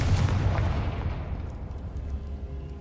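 An explosive Confringo spell cast in Hogwarts Legacy bursts with a loud boom that rolls into a long, dense, rumbling tail and fades slowly.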